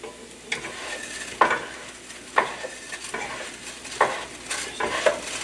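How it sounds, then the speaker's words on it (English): Rice is stirred in a pan over low heat, several distinct scraping strokes of a utensil against the pan at irregular intervals over a soft background sizzle, close and clear with no speech. "Gotta keep stirring. We want to infuse the rice."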